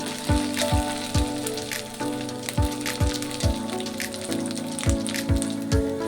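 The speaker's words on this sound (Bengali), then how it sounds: "এখন আমি ডাল বাটাটা দিয়ে দেব।" Lentil paste hitting hot oil in a pan already frying ginger and green chilli paste, giving a continuous crackling sizzle with sharp popping spatters at a regular pace.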